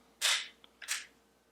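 An HK Mark 23 pistol dry-fires twice, two sharp close metallic clicks about three quarters of a second apart, in an otherwise quiet setting.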